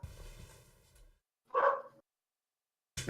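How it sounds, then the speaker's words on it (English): A dog gives a single short bark partway through, preceded by a low murmur and followed by a brief burst at the end, otherwise quiet. "my dog was barking too"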